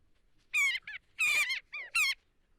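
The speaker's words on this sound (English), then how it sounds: "Welcome to the sound of hawks." Hawks calling outside near a home deck, a few separate high, shrill cries in quick succession, clear and fairly close against a quiet background.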